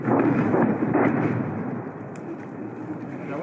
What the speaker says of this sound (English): Ukrainian artillery is ceaseless